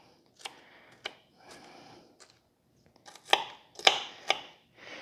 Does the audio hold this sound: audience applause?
no